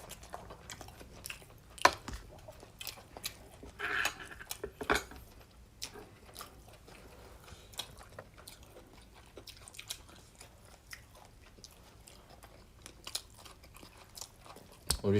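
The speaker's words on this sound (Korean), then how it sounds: "우리 차돌박이 먹어요." People chew beef brisket (chadolbagi) at a meal, with soft wet chewing and crunching up close, scattered clinks of cutlery and dishes, and no clear talking.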